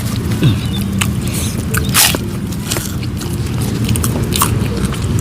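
Close, wet chewing and biting of young jengkol and chicken skin satay with spicy jontor sambal, a dense run of crunchy, squishy mouth sounds with a few sharper bites, no talking.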